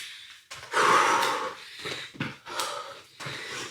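Heavy, ragged breathing during a cardio workout: several loud gasping exhales and wheezy pants in uneven bursts, close and breathy, with short pauses between.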